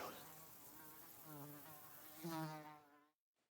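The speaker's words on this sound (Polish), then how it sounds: "I to mucha bzycząca jeszcze." A fly buzzes inside the medieval game Kingdom Come: Deliverance, a wavering, droning hum that rises and dips for about three seconds before cutting off.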